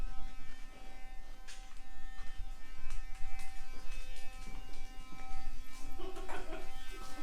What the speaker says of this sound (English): This is the loudest toothbrush